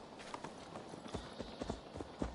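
Horse hooves clip-clop along a road in Assassin's Creed Valhalla's Viking-age Discovery Tour, an uneven run of soft thuds heard faintly and fairly close with no other sounds.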